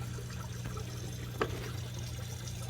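Water drains steadily from a compact hydroponic flood and drain system growing tomatoes, a faint, continuous trickle with one brief click partway through.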